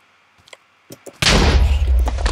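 A powerful weapon in the Minecraft Tux Weapons Mod fires at a horde of mobs, a few faint taps leading into an abrupt loud burst that stays as a heavy, booming roar.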